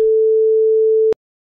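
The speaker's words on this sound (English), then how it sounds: "I put in front of the ring mod device a polygrid with a sine wave" A pure sine tone at about 430 Hz, the note A, from a polygrid in Bitwig holds steady and loud for about a second, then cuts off abruptly with a click into silence.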